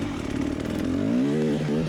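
A Gas Gas enduro motorcycle on a hard enduro race climb revs hard and close, its buzzing two-stroke note climbing steadily in pitch over a couple of seconds, with no voices.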